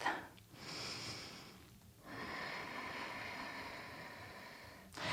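Slow, deep breaths during a vinyasa yoga flow: a long audible inhale through the nose and an extended exhale, close and soft, with brief pauses between, and no talking.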